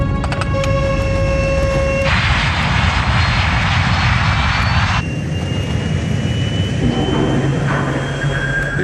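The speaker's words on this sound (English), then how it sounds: "To save the plane, Captain Caviedes applies full throttle, burning up more of the plane's precious fuel." Jet airliner engines on Avianca flight 52 spooling to full throttle during a missed approach near New York, a loud continuous roar with rising whine and tonal shifts, heard steadily throughout without talk.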